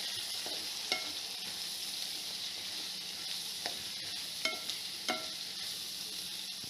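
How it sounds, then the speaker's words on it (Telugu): Onions frying in a pan for a spicy South Indian curry sizzle softly and steadily, with several scattered clinks and scrapes from a spoon stirring them. "ఆనియన్స్ వేసుకున్నాక కిందకి మీదకి బాగా కలుపుకోవాలి"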